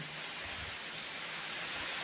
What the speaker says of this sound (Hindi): देखिए मौसम जो है थोड़ी बारिश हो रही है